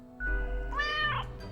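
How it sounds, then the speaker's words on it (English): A cat in the video game Death and Taxes lets out one delighted meow, a clear rising and falling call lasting about a second over a faint background hum. "The cat emits a delighted meow at the prospect."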